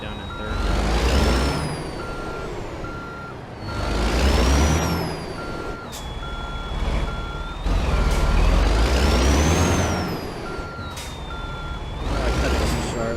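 A truck backs up a trailer in American Truck Simulator, with a steady electronic reversing beep repeating over the engine as it revs in loud surges and drops back, plus the hiss of air brakes.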